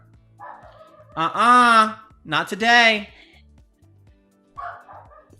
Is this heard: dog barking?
yes